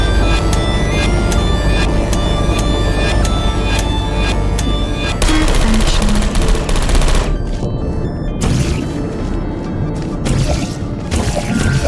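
Turrets firing bullets in the video game Portal 2, producing loud rapid bursts of machine-gun fire with sharp repeated cracks, then a dense crashing barrage and intermittent clattering shots.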